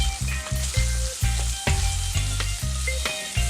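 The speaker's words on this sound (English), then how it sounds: "Then I'm going to give these oxtails a nice sear on both sides" Oxtails sear in a hot pan with loud, continuous sizzling and crackling fat, broken by a steady series of sharp clatters as the meat is turned, close up and without talking.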